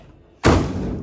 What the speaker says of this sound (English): them doors, they slam on you